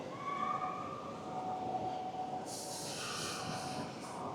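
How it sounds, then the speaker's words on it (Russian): Local electric commuter trains at an old Helsinki railway station, a faint distant rumble with a thin whining tone, and a hissing burst partway through, heard amid a quiet station ambience. "А это местные электрички."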